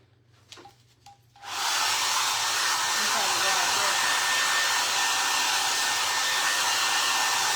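A hair dryer switches on after a few soft taps and handling sounds, then blows steadily with a loud, continuous roar while drying a DIY craft for a Halloween campfire can.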